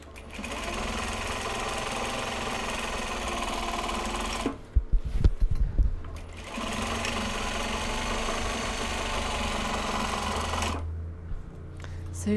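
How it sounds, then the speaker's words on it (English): A sewing machine winds thread onto a bobbin while large box bags are being made, giving a loud, steady close-up whir that halts briefly in the middle, then resumes at the same pace. "We are winding the next bobbin already"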